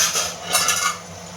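Ariselu (athirasam) rice dough fries in well-heated oil on a low flame, giving a steady close sizzle with bubbling crackle that swells briefly and then settles. No one talks.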